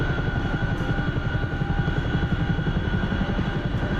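Steady, loud rotor chop from a helicopter passing overhead, a continuous rhythmic thumping over engine drone with no voices.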